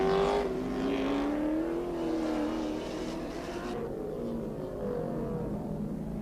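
BMW 325 and Rover touring cars race at Donington, engines screaming loud and close as a high-pitched whine rises and falls through gear changes, then the roar recedes slightly.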